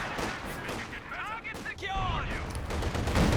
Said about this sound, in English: Let's drop some base howitzer fire on the Shred HQ.